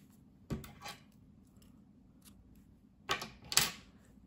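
Scissors snip through knitting yarn as a piece is finished: a few faint, short cutting snaps, one near the start and a quick pair toward the end, in an otherwise quiet room.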